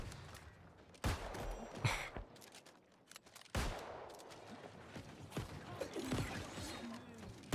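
Musket point firing in a video game: two sharp, loud gunshots about two and a half seconds apart, each followed by mechanical clatter and creaking reload noises, with a further crack at the very end.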